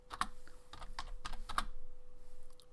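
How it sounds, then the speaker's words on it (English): Typing text on a computer keyboard: a close, irregular run of clicky keystrokes, some sharper taps standing out, with brief pauses between groups of keys. "So I'm going to type some text"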